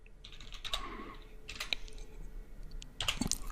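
Soft, rapid keystrokes on a computer keyboard come in short irregular bursts with brief pauses, quiet and close, while someone enters a background colour setting during website development work.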